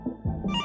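A telephone rings in a short, bright electronic burst that starts midway after a low murmur, loud and close.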